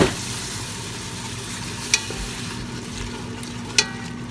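Milk trickles slowly into a butter-and-flour roux in a pan, giving a steady hiss and sizzle with two brief clicks of a utensil against the cookware.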